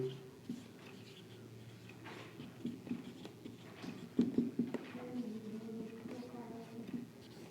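Pen scratching on paper while writing out a maths answer, soft irregular strokes and taps close by, with a quiet voice underneath.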